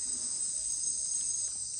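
Insects chirp in a Peruvian jungle at night, a dense, continuous high-pitched shrill of crickets that stays steady and fairly loud. Nothing else stands out beneath it apart from faint low background rumble.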